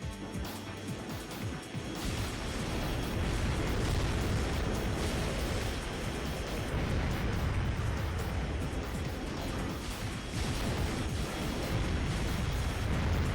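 Rocket blasts from mech combat in Armored Core 2: Another Age, a dense, continuous run of loud booming explosions and crashing impacts with no talk.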